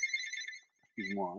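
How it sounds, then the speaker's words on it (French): A landline telephone rings with a bright electronic trill, first alone and then under someone speaking French close to the microphone. "c'est mon téléphone fixe"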